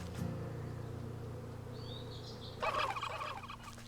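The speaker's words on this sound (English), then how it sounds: "Oh, I'm not going to deal with them turkeys, flipping heck." Turkeys gobble in the video game Wytchwood: a burst of rapid, warbling gobbles rises partway through over a steady low game ambience, with a brief higher chirp just before.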